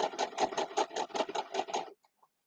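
A sewing machine stitches a seam through layered fabric while a quilt block is pieced, running in quick rhythmic bursts of even clatter for about two seconds before stopping, close and alone.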